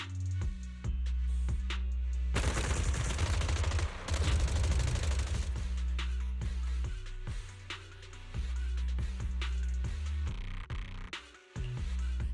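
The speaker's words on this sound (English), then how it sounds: "Gunfire? This pattern. Suppressive marching fire." Sustained suppressive marching gunfire in the video game Zenless Zone Zero, a dense loud barrage of rapid shots over a low game soundtrack, heaviest in the middle and thinning into scattered bursts.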